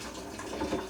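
Alkaline water pours steadily through a siphon into a container, a soft continuous trickle and splash under faint room hiss.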